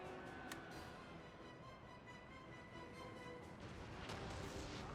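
Cannon artillery fire in the video game Napoleon: Total War, a dense continuous battle din with sharp booms and cracks at intervals, loud and sustained throughout.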